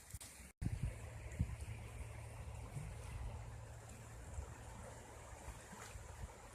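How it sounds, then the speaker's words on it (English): Steady rush of creek water flowing across the street from a home, a continuous broadband wash with soft surges, heard alone at a moderate distance. "Creek across the street"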